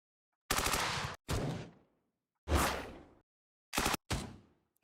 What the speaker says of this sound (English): Rifle shoot.